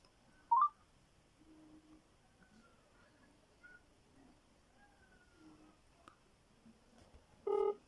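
A phone dials a saved number, giving a couple of brief, quiet tone beeps separated by long stretches of near silence.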